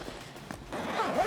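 A bottom zipper on a Gura Gear Kiboko 2.0 16L camera backpack is pulled open in one close, rasping sweep that grows louder and more continuous toward the end.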